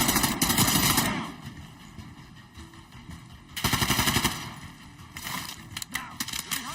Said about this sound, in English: Machine gun.